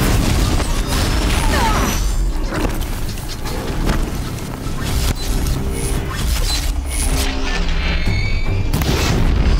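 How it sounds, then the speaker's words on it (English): A loud, roaring explosion in the game Horizon Zero Dawn, with a thick wash of blast noise, crackling debris and scattered smaller bursts carrying on for several seconds; a voice may be faintly mixed in beneath the din. "Now blow it. Now it's blowed up."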